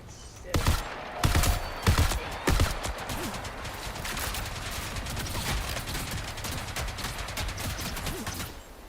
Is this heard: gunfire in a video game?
yes